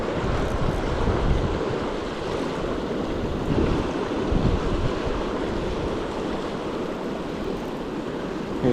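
A river current rushes steadily through a mountain setting on the Kern River, a close, broad, continuous wash of flowing water with some wind buffeting and no voices.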